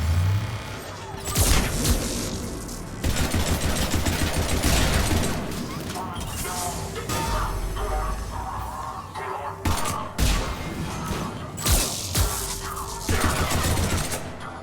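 Pistol gunfire in Mass Effect 3, loud repeated shots in irregular bursts mixed with booms and combat noise throughout, with a voice speaking briefly among the shots.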